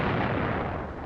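Heavy World War II artillery bombardment against the Maginot Line forts, a dense continuous roar of booming fire with no gaps, loud and rumbling throughout.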